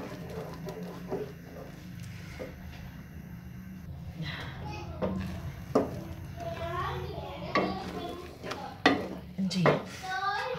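Eggs cooking in daal on a tawa give a soft continuous sizzle, with occasional clinks of a spoon against the pan while someone talks over it.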